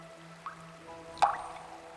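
Water drops fall onto a cave floor where stalagmites form, two distinct plinks about a second apart, the second louder, ringing against a quiet, faintly humming backdrop.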